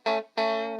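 Two bursts of heavily distorted electric guitar through an ADAU1701 DSP distortion pedal, a short buzzy chord followed by a longer sustained one, thick and saturated with a clean stop between.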